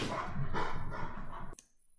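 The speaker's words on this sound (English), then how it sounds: "I apologize folks for my dog being a little excited here" Excited dog barking indoors: a run of several quick, close barks and yips in an uneven rhythm, cut off abruptly near the end, leaving near silence.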